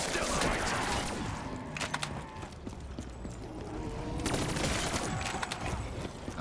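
Rapid gunfire in Call of Duty Zombies on the Revelations map, bursts of sharp, closely spaced shots with brief gaps between volleys, alongside other game noise and some talk.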